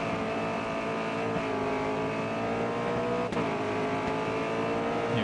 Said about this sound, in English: Brake around here and accelerate through the corner.